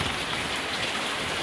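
Heavy rain from the remnants of Hurricane Harvey pours steadily in Burleson County, a dense, constant hiss of drops hitting surfaces, loud and unbroken with no voices.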